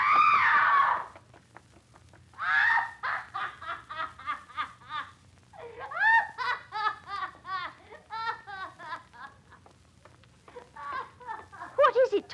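A woman screams in a Jack the Ripper radio drama: a loud, piercing shriek opens, then more shrill cries and laughing, excited voices follow in bursts.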